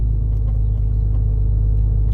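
An old Dodge pickup hauling a gooseneck trailer, heard from inside the cab as a loud, steady low engine and road rumble that holds constant throughout.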